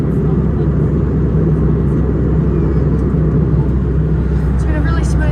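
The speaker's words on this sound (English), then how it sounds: "the Fokker, only because, you know, it's quite noisy" Cabin of an Alliance Airlines Fokker 100 airliner descending into Brisbane, where a steady, loud low engine and airflow rumble fills the background while a person talks over it.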